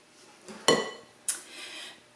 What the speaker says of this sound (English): Let me give that a quick stir